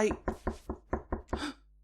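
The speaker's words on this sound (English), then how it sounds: "Sorry for knocking." Seven firm knocks on a door in an uneven rhythm, close and loud, with the last one longer and rattling, followed by quiet.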